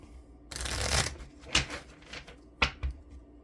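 A deck of playing cards being shuffled during a tabletop baseball game, a long riffling burst followed by two shorter quick riffles, close and clear with no talking.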